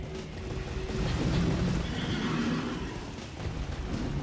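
A horse neighs in the Elden Ring video game, a long, broad whinny heard over steady game ambience with no speech.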